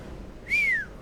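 A person attempts a whistle, producing one brief, thin tone that rises slightly and then falls away in under half a second, fairly close and clear over low background noise.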